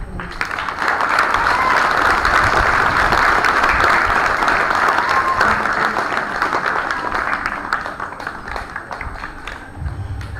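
A crowd applauds loudly and steadily at a school parade at Kelso State School, a dense wash of many hands clapping that carries on for about ten seconds before thinning slightly toward the end.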